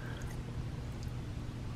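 A 10 millilitre pool water sample poured into the tester chamber of a Pool Lab 1.0 handheld tester, a steady faint trickle running alone for under two seconds.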